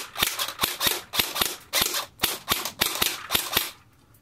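An MP5 with full stock fired in quick semi-auto taps, about a dozen sharp, snappy shots in an uneven rapid rhythm, close and without talk.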